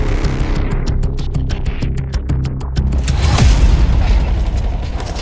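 Grenade blast in Counter-Strike during a pro match, a heavy boom late in the clip that follows a run of rapid mechanical clicks and gunfire, loud and up front.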